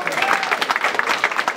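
Guests at a 50th wedding anniversary party clap together in a lively round of applause, close and fairly loud, with uneven patters of hands and a bit of chatter mixed in.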